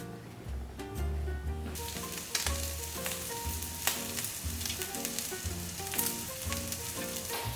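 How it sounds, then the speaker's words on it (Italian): Pheasant skewers sizzle steadily on an oiled griddle, a loud continuous frying hiss with crackles, while music plays beneath it. "Adesso andiamo a posizionare i nostri spiedini sulla piastra."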